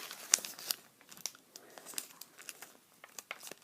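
A sheet of paper is folded into an origami bird, producing close, faint crinkles and sharp creasing crackles in irregular bursts.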